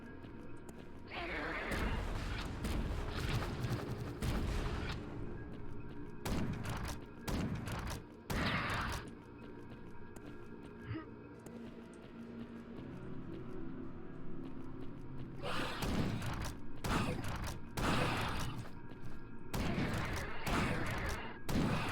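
A weapon fires repeatedly in the shooter Chasm: The Rift, with bursts of loud gunfire clustered in short volleys separated by quieter stretches of ambient game sound and mechanical clanks.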